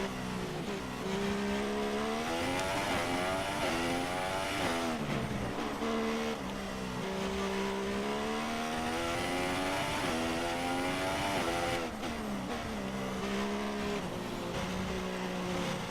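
A Formula 1 car in the racing game F1 2017 on a time trial lap, its engine screaming loudly and rising and falling in pitch as it accelerates, brakes and shifts through corners.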